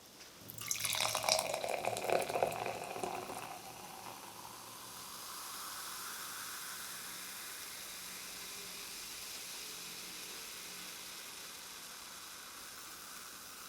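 Orange soda with 16% orange juice poured into a glass, a splashing pour up front giving way to a steady, soft fizzing hiss of bubbles that continues close and quiet.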